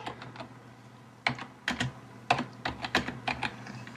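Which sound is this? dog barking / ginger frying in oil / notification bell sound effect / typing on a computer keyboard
typing on a computer keyboard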